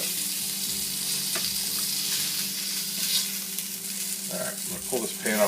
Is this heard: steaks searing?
yes